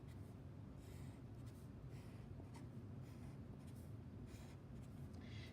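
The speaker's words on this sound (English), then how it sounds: "So we'll draw our lines going outwards." A marker draws electric field lines on a board, producing a series of short, close scratchy strokes in a steady rhythm over a low background hum.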